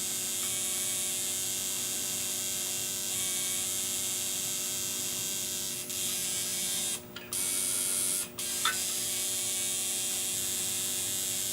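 A tattoo machine runs with a continuous close electric buzz and hum, briefly cutting out twice as it pauses for reloading ink, no talking.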